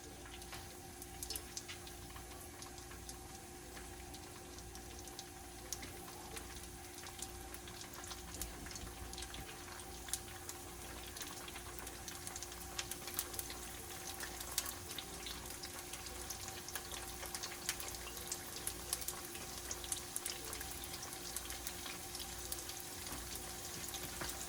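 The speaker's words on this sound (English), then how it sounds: "we're gonna go put these in some oil, and then we're gonna eat them" Chicken ginger egg rolls sizzle in hot oil with a steady, dense crackle and hiss that holds for the whole stretch, fairly quiet and close, with no talking over it.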